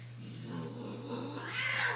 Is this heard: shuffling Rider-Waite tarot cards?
no